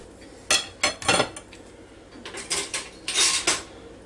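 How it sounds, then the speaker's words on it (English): Dishes and cutlery clink and scrape as a plate of meatloaf and potatoes is served, several distinct clatters and scrapes close by in a quiet room with no talking. "Now I'll fix my plate."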